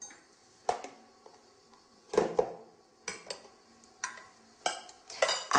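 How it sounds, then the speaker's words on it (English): A whisk or spoon works egg whites and folds them into whipped cream in a bowl, a few separate scraping clinks against the bowl in an uneven rhythm, close and fairly quiet, no talking. "whisk 2 egg whites stiffly and fold into the cream"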